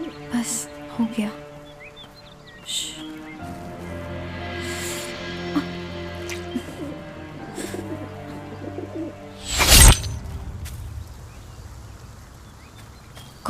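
Close cooing calls from a wounded bird with an arrow in it come in scattered bursts, set against low background hum and occasional voices, with a sharp loud rustle near the end.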